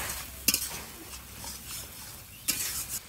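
A spoon scrapes masala with turmeric around a pan while chitol fish curry cooks. Two sharp stirring strokes come a couple of seconds apart over a faint sizzle.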